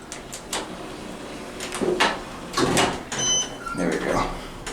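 Otis Series 5 hydraulic elevator door, installed in the late 2000s at a Holiday Inn Express & Suites in Evanston, slides with a few soft rumbling sweeps and light clunks, moderately close.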